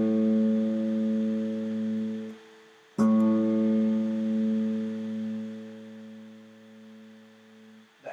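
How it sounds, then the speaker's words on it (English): Guitar's low E string in standard tuning, freshly tuned, plucked twice: a sustained open note ringing and fading, then struck again and left to decay, clear and alone. "My lowest E string will sound like this."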